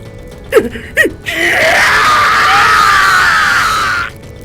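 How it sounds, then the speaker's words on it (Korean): Men on hot charcoal screaming in pain as their legs burn, an Edo-era torture: two short sharp cries, then one long sustained strained scream, loud and close. "고온에서 2다리가 타는 통증에 놈들은 추악한 비명을 질렀다"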